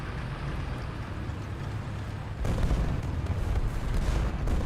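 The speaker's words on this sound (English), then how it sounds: "That's a crazy artillery strike, by the way" Artillery strike explosions in the video game War Thunder form a dense, continuous rumble of blasts that grows louder and heavier halfway through, with no talk.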